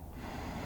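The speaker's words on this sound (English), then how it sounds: "Nice big inhale, opening up the diaphragm." One big, deep inhale taken during a guided breathing exercise, a close, airy rush of breath filling the whole moment with no talking.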